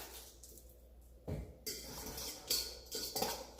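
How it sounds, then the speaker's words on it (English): Battered cauliflower florets are tossed and stirred in a bowl, giving clinking, scraping bursts of utensil against dish, several uneven strokes close by and fairly loud, with no talking. "Mix that up real good"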